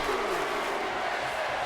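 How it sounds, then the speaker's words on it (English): Broadband roar of a video game wrestling crowd in WWE 2K24 at a beach-themed RAW show, a dense steady wash of chanting and cheering filling the short moment without pause. "Crowd chanting, this is awesome"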